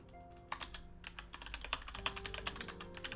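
Quick bursts of keystrokes on a computer keyboard as a quest name gets typed into a website, close and fairly quiet, with short pauses between runs of taps.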